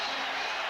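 Crowd in a basketball arena at the 1982 NBA Finals cheering as Darryl Dawkins fouls out, a short burst of dense roaring noise, broad and sustained.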